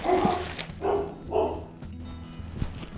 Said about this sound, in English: My dogs were out there barking